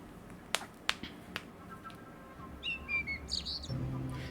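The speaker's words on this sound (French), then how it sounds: "Peut-être que je peux ramener un oiseau à Olive" Bird chirps in the video game Copycat, a few quick tweeting calls arriving late after some snapping clicks, fairly faint over a quiet outdoor ambience.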